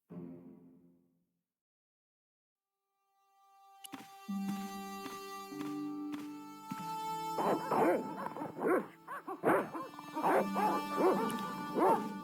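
Dogs in the Broken Sword point-and-click adventure game bark and yip repeatedly in an excited, uneven burst, fairly close, with some whimpering, after a brief quiet start.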